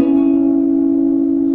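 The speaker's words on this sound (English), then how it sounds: "So you're gonna hammer on with your ring finger on the 4th string on the 11th fret." A single guitar note held after a ring-finger hammer-on at the 11th fret of the 4th string: steady, loud and close, with no voices.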